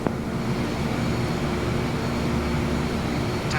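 Beech 200 twin-turboprop taxiing in Microsoft Flight Simulator 2024, a steady loud engine drone with a constant low hum and no speech, unchanging throughout.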